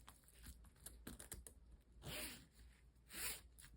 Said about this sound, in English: Now we put the zip puller on. We check if it goes smoothly and everything is okay.